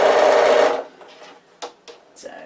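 A sewing machine runs a quick burst of stitches along a tote bag seam, a fast whirring hum for under a second, then stops, followed by faint handling clicks and rustles.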